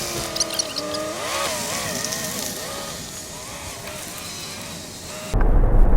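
A pickup truck towing an RV pulls away onto the road, its engine note rising and wavering through the gears, then giving way to a sudden loud rush of road and wind noise at the end.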